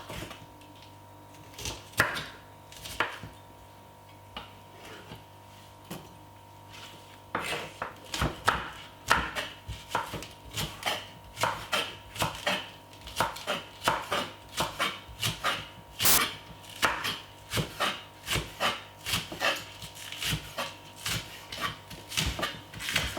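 A knife chops a green pepper on a wooden board. The strokes start sparse, then come as quick, irregular taps close by.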